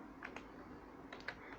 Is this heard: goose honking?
no